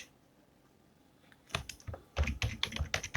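Clattering keystrokes on a computer keyboard while entering input into a Python program, starting after a quiet second and running as quick, loud, uneven bursts of clicks close by.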